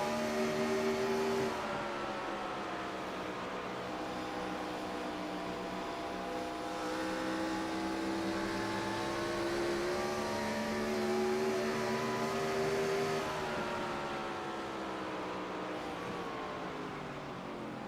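Onboard a NASCAR race car at Dover, the engine drones steadily and loud, its pitch rising and falling with throttle through the laps, a constant close roar with no talk.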